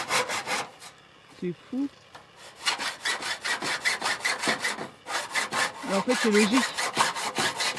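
A handsaw cuts a birdsmouth notch into a timber rafter during roofing work, with steady rhythmic back-and-forth strokes, close and loud, pausing briefly before resuming while someone talks over it.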